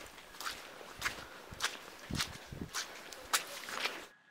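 About eight footsteps trudge uphill on a muddy path at night, squelching and scuffing in a slow, fairly even rhythm, close by and fairly faint, with no other sound around them.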